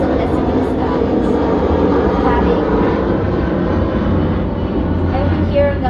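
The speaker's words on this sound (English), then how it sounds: "I've been hearing a lot of planes" Airplanes passing overhead outdoors, a steady broad roar that fills the whole stretch at moderate loudness, with no clear rise or fade and no talk.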